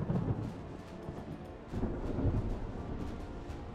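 A thunderstorm rumbles in a naval battle video game with a battleship and light cruisers, deep, rolling thunder surges over a constant wash of rain, with no talking.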